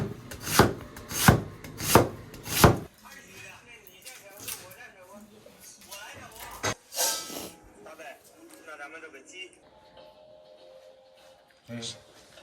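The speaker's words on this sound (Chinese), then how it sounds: "切点芹菜做配菜， 切个洋葱" A knife chops celery and onion on a board in a home kitchen. A few loud, evenly spaced, close chops come first, followed by softer scraping and rustling, while people talk in the background.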